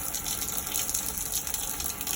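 Water gushes steadily from a busted large water container at a tiny house build, a loud, constant rushing splash that never lets up.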